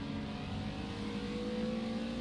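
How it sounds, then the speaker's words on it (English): A GT4 Porsche race car in a racing video game drones steadily, its engine tone close and sustained with a faint rising pitch, alone without voices. "I hear that Porsche behind me"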